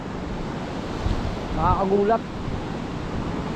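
Small, gentle ocean waves washing in at low tide with shallow water, a steady broadband wash throughout, with a brief spoken word from a person partway through.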